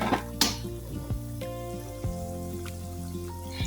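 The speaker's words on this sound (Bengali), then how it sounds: "আমি সুন্দর করে লাল করে এপিট উপিট করে ভালো করে ভেজে নেব।" Quick homemade snacks frying in a pan over medium heat give a steady close sizzle with scattered small pops and crackles, over a faint background hum and no talk.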